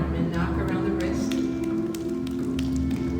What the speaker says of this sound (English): extend your right arm and knock around the wrist